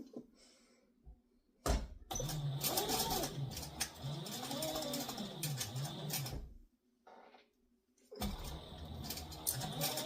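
A domestic sewing machine stitches a fabric satchel in two loud motor bursts, a long run then a shorter one after a pause, with a soft clunk before the first and quiet handling in between.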